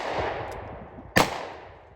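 A single sharp gunshot from a Ruger SP101 revolver at a shooting range, loud and close, followed by a ringing decay and preceded by a lower earlier report.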